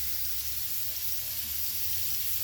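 Freshly caught wild game meat sizzles in a hot pan, a dense, steady crackling hiss close by with no voices.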